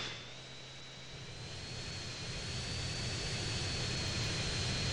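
A jet plane flies in the video game GTA San Andreas, its engine a steady roar with a high thin whine on top, growing slowly louder over several seconds.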